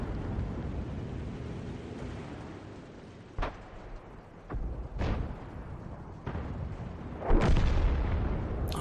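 Video game artillery from an M44 self-propelled gun, a shell striking a rock face, heard as several dull booms and sharp impacts over a steady, rushing battlefield rumble.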